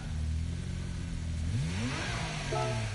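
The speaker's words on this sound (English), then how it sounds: "there's the Pito car going through town" A car in a video game drives through a town, its mid-pitched engine revving and rising in pitch as it accelerates, steady and fairly close throughout with no talk.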